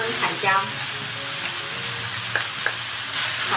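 Minced pork sizzling and stir-frying in hot oil in a wok with onion and bell pepper, a steady crackling hiss with a few soft scrapes and clicks from stirring, close and continuous, no talking.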